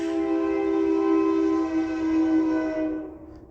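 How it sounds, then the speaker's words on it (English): A train passes close by a house, its horn blaring loud and sustained for about three seconds before cutting off abruptly, with a low rumble underneath and no one speaking. "Sorry, y'all, I got a train coming."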